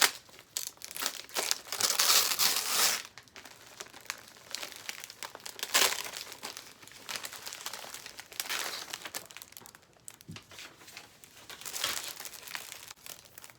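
Birthday present package being unwrapped, paper crumpling and tearing in repeated bursts of crinkling close by, with no talk.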